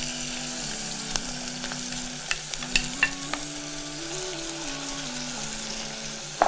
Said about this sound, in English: So you can see I'm browning my beef on both sides.